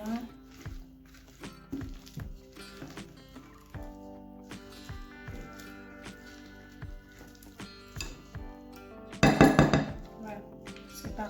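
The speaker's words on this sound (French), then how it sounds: "On mélange bien." Goat cheese and honey being stirred together for appetizer balls, with spoon or utensil clinks and taps against a bowl repeating throughout, close by, and a louder burst of scraping near the end; background music plays underneath.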